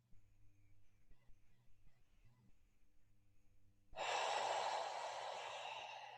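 Slow nasal breathing, with a faint background hum at the start, then a loud, close, breathy exhale that tapers off gradually over a couple of seconds.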